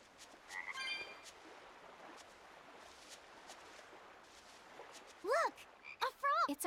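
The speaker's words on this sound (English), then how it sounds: "Look! A frog!" Frog croaking in the video game Tales of Berseria, set near the sea at Port Renede: a few quick rising croaks near the end, loud and close, over soft ambient background with faint chirps.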